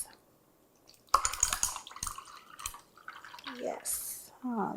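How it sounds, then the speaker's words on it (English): A drink is poured over ice in a glass at home, with clinks of cubes, a trickling pour and dripping liquid, under quiet talk. "Pour this over ice."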